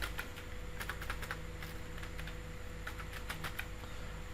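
A name is typed on a computer keyboard: a run of quick, light key clicks in an uneven rhythm, close by over a steady low room hum, with no voices.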